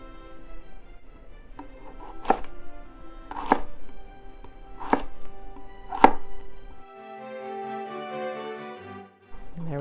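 A knife slices a celeriac root into planks with four crisp, evenly spaced cuts, each a sharp close thunk. A steady low hum sits underneath, and a brief tonal sound follows the last cut.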